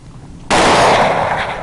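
A single sharp rifle shot fired at feral hogs during a hunt, a sudden loud crack after brief quiet that rings out and decays slowly over the open field.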